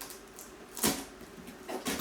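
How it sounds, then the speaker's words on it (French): Cardboard box of Alctron PF 46 acoustic foam for a studio microphone being opened: a few dry rustling, scraping handling noises, with one sharper tear near the middle and another burst at the end, close and fairly quiet. "on ouvre la boîte."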